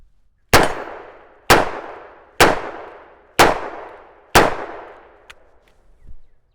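Five loud shots from a Taurus Tracker .44 Magnum revolver, evenly spaced about a second apart, each a sharp crack with a ringing decay, followed by a couple of faint clicks and a small thud.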